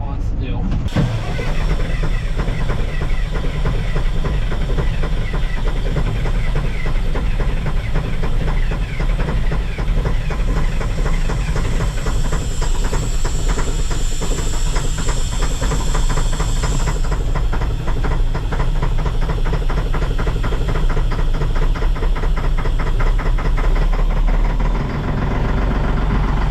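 A truck engine being started in snowy, frozen conditions cranks with a sharp opening burst and then settles into a loud, steady, rapidly pulsing run that continues throughout; a voice talks over it at times.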